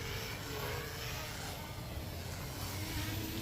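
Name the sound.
Bugs 6 drone motor sounding rough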